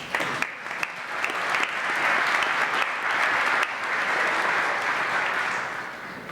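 An audience at a school ring ceremony breaks into warm applause for a senior speaker. The clapping swells quickly, holds steady and loud, then tapers off near the end.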